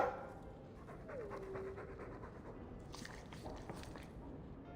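A Mabari war dog pants in Dragon Age II, soft rhythmic breathy huffs close by over a quiet ambient background, with a brief whine near the start.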